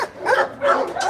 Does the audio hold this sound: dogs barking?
yes